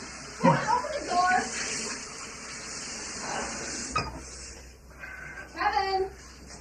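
Steady hiss of running tap water as someone washes up in a bathroom, with muffled voices and shouting behind a closed door over the flow.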